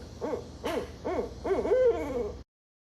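A barred owl calls in a series of loud, close hoots, four or five rising-and-falling notes ending in a drawn-out, wavering final hoot, heard alone with no voices.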